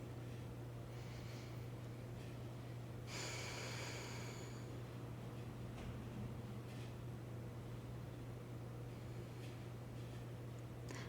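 A single audible breath while holding a stretch on a Pilates reformer, heard as one short breathy rush over a constant low electrical hum and background hiss, otherwise quiet.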